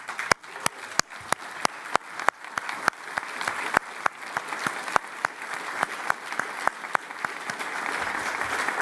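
A graduation ceremony audience stands and applauds the graduating class, giving steady, sustained clapping from a large room with sharp individual claps over a dense wash.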